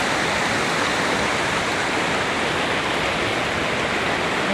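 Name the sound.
rushing floodwater in Attapeu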